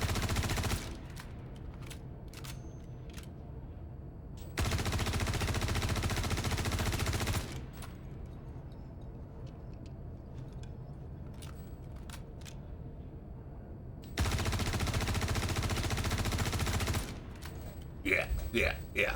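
A crafted gun fires in the video game Star Citizen, two loud dense bursts of rapid fire a few seconds long, separated by quieter stretches with scattered clicks and someone talking.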